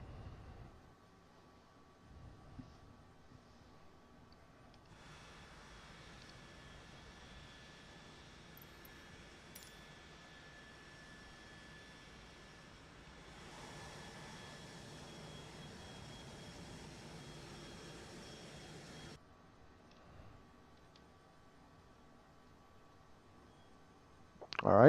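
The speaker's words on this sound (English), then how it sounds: "Engine number 2 is starting." Phenom 100 business jet in Flight Simulator 2020, its number 2 engine starting: a steady low rumble swells around five seconds, a thin whine joins and climbs, the sound brightens further near fifteen seconds, then drops away suddenly near the end.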